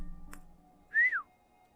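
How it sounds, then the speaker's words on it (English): A short two-part whistle rises and then bends downward, sounding once and clearly after a brief click. A character in the video game Psycho-Pass: Mandatory Happiness whistles it against a quiet background hum. "Miss Carnamore whistled and then an image was displayed."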